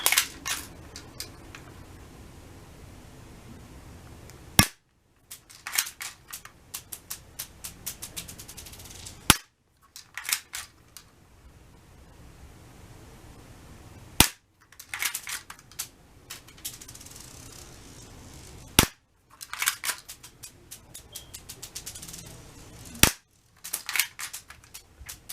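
666AF BB gun firing in a series of sharp, loud cracks about every five seconds, each followed by clicking and mechanical rattling of the gun between shots, with no voices.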